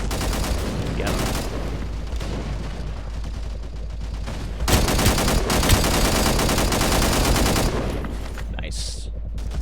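Turret machine guns firing in the video game Angels Fall First: long, dense bursts of rapid automatic fire clatter almost without pause, growing heavier midway, with a player's voice speaking over the gunfire.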